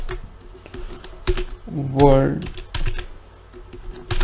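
Computer keyboard typing in short, irregular clicks while a project name is entered in a software setup screen, with someone talking over much of it.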